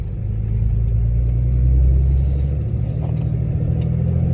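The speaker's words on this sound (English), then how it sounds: "So now I'm going to take it for a test drive to see if it's working" A Cummins diesel truck on a test drive after an exhaust pressure sensor replacement rolls along with a loud, steady low engine drone and road rumble, swelling slightly midway, heard from inside the cab.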